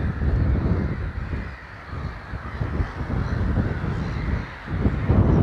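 Many birds crowded on a long island in a tidal channel on the coast, a dense distant clamour of harsh caws and honks rising and falling without pause.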